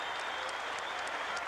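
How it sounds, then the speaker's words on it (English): Standing ovation from a huge crowd at a boxing fight in a Melbourne sports arena, a dense, continuous roar of clapping heard up close, with no break for its short length. "The bell for the end of the fight between Tony Miller and Jeff Fenech, and the standing ovation for both boys"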